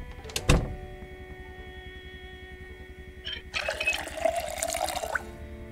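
Water bottles being filled in the video game Project Zomboid: a sharp thunk near the start, then a quiet hum, followed by a rushing, splashing pour of water that runs for about two seconds, with no talk.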